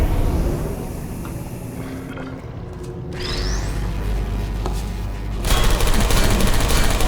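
Automated turrets in the video game Portal 2 fire loud, rapid bursts of gunfire, with a mechanical pause mid-way before the fire resumes even louder and sustained to the end.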